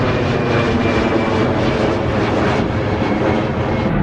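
Airplane by London City Airport beside the ExCeL centre: a loud, steady jet engine roar that holds unbroken for several seconds, with no voices.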